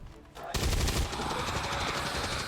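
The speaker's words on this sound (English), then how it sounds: "do me a favor and shoot that alien" A sudden loud burst of rapid automatic gunfire shooting an alien in the video game XCOM 2: War of the Chosen, starting abruptly after a quiet moment and continuing as a dense rattling volley.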